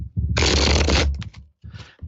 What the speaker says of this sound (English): I'll cut the cards and shuffle them up.